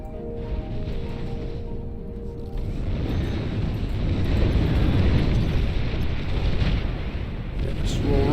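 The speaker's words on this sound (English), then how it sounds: "They're nuking again." Nuclear missile strike in the strategy game Beyond All Reason, heard as a loud, rising, roaring explosion that swells into a broad rumble and holds for several seconds after a quieter opening.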